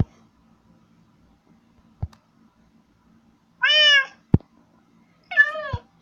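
Two short, clear cat meows sound from a video game, spaced a couple of seconds apart between sharp, isolated clicks, with a quiet background and no talking.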